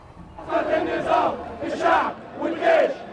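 A massive crowd in a square in Egypt celebrating a pro-democracy victory chants and cheers in loud rhythmic waves, roaring voices rising and falling about every second.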